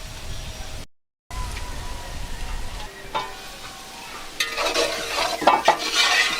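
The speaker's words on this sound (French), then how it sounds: "on va laisser les papayes mijoter pendant environ 10 minutes pour qu'elles soient al dente" Papaya simmering in a pot over embers, a steady low bubbling and sizzle with occasional stirring and utensil scrapes, growing busier and louder toward the end, no talking.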